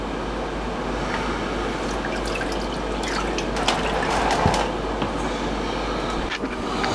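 Murky moonshine distillate runs out of a homemade still for a rye-multigrain mash in a steady close trickle with scattered drips over a constant background hiss.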